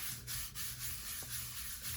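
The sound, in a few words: rubbing ink onto junk journal paper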